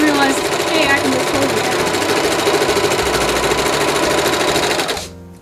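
Sewing machine stitching a teddy bear gown, running as a loud, rapid, steady mechanical chatter at close range, then stopping abruptly near the end.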